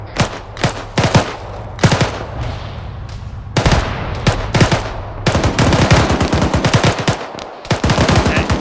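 Gunfire in the military shooter ArmA 3: loud automatic bursts and single shots crack out close by, coming in scattered volleys at first, then dense rapid strings of machine-gun fire near the end.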